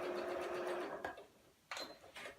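Sewing machine running a quarter-inch patchwork seam on a maple leaf quilt block, a steady close whirring hum for about a second, then a pause and a second shorter burst of stitching.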